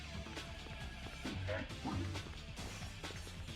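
Glass smashes under repeated hits in the video game Onimusha, a series of sharp crashes and thwacks over game sounds, loudest around the middle of the stretch.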